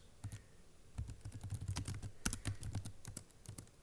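A mailing address typed on a computer keyboard, a close, steady run of quick key clicks with a few louder strokes mixed in.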